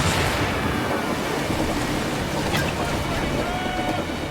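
Ship cannons fire in the naval combat of Assassin's Creed Black Flag: a loud, sustained booming roar with a sharp crack partway through, over rushing sea and wind.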